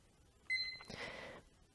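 A timer gives a short electronic beep as it is set, followed by a brief soft rustle in an otherwise quiet room.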